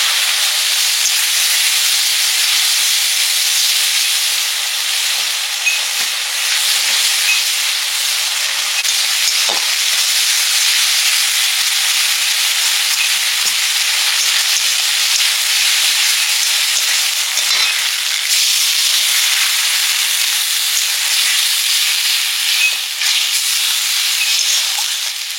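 A spice paste of ginger, garlic, chili and turmeric sizzles steadily as it fries in a pan, a constant bright hiss that stays loud and even throughout, with no talk.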